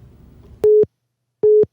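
A telephone busy signal follows a hang-up: two clean, evenly spaced electronic tones, each about a fifth of a second, sounding loud and alone after a faint murmur fades out.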